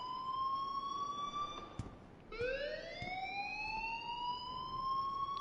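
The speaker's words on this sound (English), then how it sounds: "please turn off that alarm since that's your job" Electronic school alarm at Blackwell Academy in Life is Strange, sounding as loud sustained tones that cut out briefly and then resume with a rising sweep.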